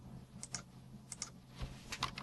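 Bursts of typing on a computer keyboard, a few quick clustered key clicks separated by short pauses, close and fairly quiet with no talking.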